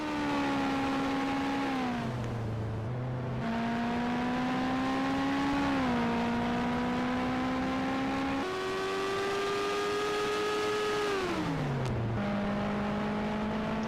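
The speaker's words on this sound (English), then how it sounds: "Hofsen now officially on the track, joins the rest of the field to give us 26 cars rolling in Mid-Ohio" IndyCar-style race cars rolling on track at Mid-Ohio, a smooth engine whine that climbs and dips through gear changes as cars pass, steady and moderately close with no talk.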